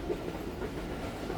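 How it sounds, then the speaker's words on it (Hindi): A passenger train rolls on a steady run toward Khairpur railway station, heard from inside as a continuous low rumble with faint wheel clatter, no talk over it. "ट्रेन हमारी अप्रोच कर रही है खैरपुर रेलवे स्टेशन।"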